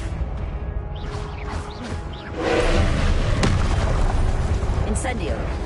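Confringo explosive spell blasts in a Hogwarts video game, booming bursts and pops over a dense battle din with a loud, sustained stretch of explosions in the second half.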